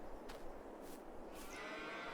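Cattle lowing in a barn within the Farming Simulator 22 video game, a few moos rising briefly over a steady low ambient hum, no talk.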